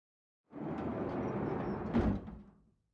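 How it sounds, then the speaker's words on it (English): A hidden wall door slides open in the Chaos;Child video game, a steady rumbling grind of about two seconds with a heavier clunk near the end before it fades out, heard alone. "We heard a loud clunk like something was unlocking, and the wall started to slide open"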